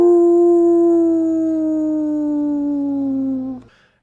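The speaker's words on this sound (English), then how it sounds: "lifts its head and howls toward the moon" A large humanoid creature lets out a long, loud, sustained howl as a sound effect, its pitch sliding slowly downward before cutting off abruptly, close and alone.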